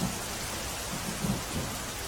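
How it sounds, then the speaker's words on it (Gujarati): Heavy monsoon rain pours steadily over a flooded town in Gujarat, a dense continuous hiss with faint low rumbles underneath, with no voices. "તો વિજાપુરમાં પણ સાર્વત્રિક વરસાદ છ કલાકમાં ત્રણ ઇંચ જેટલો વરસાદ પડ્યો"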